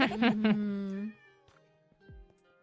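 A Minecraft cat lets out a clear, drawn-out meow up close in a roleplay scene, followed by softer, fainter sounds with a brief voice.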